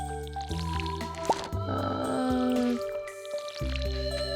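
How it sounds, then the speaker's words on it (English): Watering crops with a watering can in Stardew Valley: soft game drips and splashes with bright chimes, a short liquid pour over a sustained musical backdrop. "watering plants while also picking up the crops"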